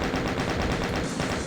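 Rapid machine-gun fire from chaingunners in a Doom map, a fast even stream of shots repeating about every tenth of a second for the full length, with no voices.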